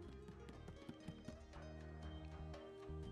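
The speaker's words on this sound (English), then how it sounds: "we caught the sound of footsteps approaching us noisily" Hurried footsteps approaching noisily in the video game Hakuoki: Kyoto Winds, a quick run of tapping steps set against steady background music.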